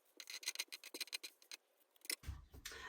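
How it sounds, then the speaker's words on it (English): Scissors snip rapidly through fabric while cutting out circles for a sewn draught excluder, a close run of crisp cuts ending in a soft thump of fabric being set down. "I'm just going to cut out the circles"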